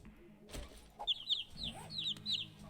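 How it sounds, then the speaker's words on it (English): Baby chicks in the survival game 7 Days to Die, a run of high, quick chirps sounding close and clear, with soft low thumps and faint background noise beneath. "So these cute baby chicks, I picked up a few of them."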